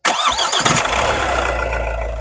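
The diesel engine of a 2025 Mahindra XUV 3XO MX2 cranks briefly and catches, then settles into a loud, steady low rumble close by.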